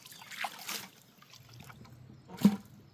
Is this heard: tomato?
no